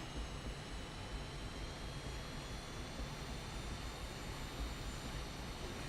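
An Aermacchi MB-339 jet in the flight simulator MSFS2024 landing hard on the runway, a dense steady engine and wind roar that holds level throughout without voices.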